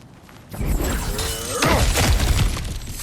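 Objects shatter and smash in God of War Ragnarok, a loud crash of breaking debris bursting in at half a second, then a second heavy smash and scattered crumbling pieces that carry on to the end.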